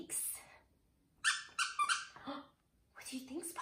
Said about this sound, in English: he has this adorable little hedgehog that squeaks